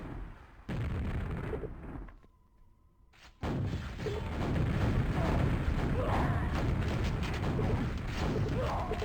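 Rocket blasts and weapon fire crackle through a QuakeWorld team deathmatch, a dense continuous barrage of loud explosions with a brief quieter lull in the middle, while a commentator talks over the action.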